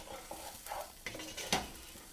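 Onions cooking in a drying pan, a low sizzle broken by short scrapes and stirs of a utensil, close up, a few brief clatters against the pan, no talking.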